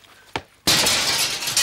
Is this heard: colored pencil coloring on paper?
no